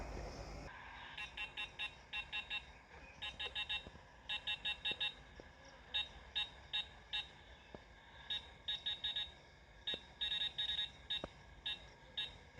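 An EMF meter in a cemetery beeps in rapid bursts, with short clusters of shrill electronic tones repeating for several seconds at fairly low volume against quiet surroundings.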